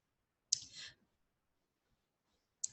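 Two sharp, faint clicks from a computer mouse pressing a Create button, separated by about two seconds of near silence, the first followed by a brief soft rustle.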